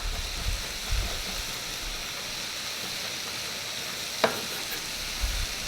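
Fresh thyme and chopped rosemary sizzle steadily in a hot soup pot as they are stirred, a continuous frying hiss with a few soft scrapes and one brief clink, no talking.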